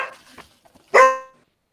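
A single sharp dog bark rings out loud and close after a stretch of faint background sounds, then fades quickly.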